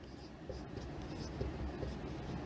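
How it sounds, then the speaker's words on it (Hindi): Chalk or marker scratches softly and continuously across a board in short strokes, faint and close, with the steady rustle of writing running throughout. "लिख लो यहाँ पर एक नोट डाल के"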